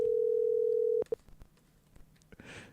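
A telephone dial tone plays steadily and loudly for about a second while a listener is being called back, then cuts off, followed by faint clicks and a brief rustle.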